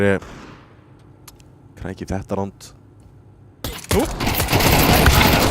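USP pistol shots ring out in a Counter-Strike 2 esports match, Kano vs SAGA. One sharp shot comes at the start, then dense, loud gunfire takes over near the end. Commentators talk in the middle.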